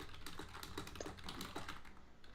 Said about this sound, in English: you're typing like a madman